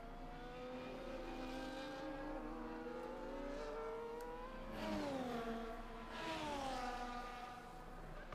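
A racing car in a sim racing league video game pushes through a hot lap at the Netherlands round, its engine whining up and down through gears in smooth rising sweeps, fairly quiet and steady, with no talking.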